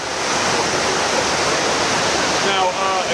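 Loud, steady rush of brook water pounding against exposed tree roots on an eroded bank, a dense roar filling the whole moment, with a voice briefly audible underneath near the end.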